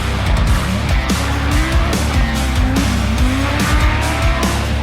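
Audi Quattro rally car racing hard on gravel, its engine roaring loud and close throughout with rising and falling revs and loose stones crunching under the tyres, no voices.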